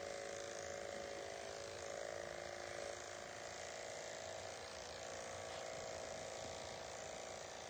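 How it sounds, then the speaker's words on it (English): Electric clippers buzz steadily throughout, shaving fur from a patient's leg over the saphenous vein ahead of catheter placement, a constant close mechanical whir with no talk. "I'm going to shave where the saphenous vein is"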